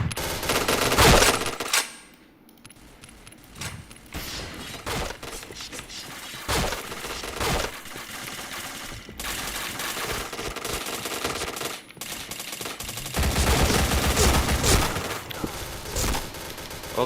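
Point Blank gunfire in an online shooter match: loud automatic bursts and single cracks come in quick clusters, with short gaps and a brief near-silent moment, all close and dense, punctuated by mechanical clicks and a shatter.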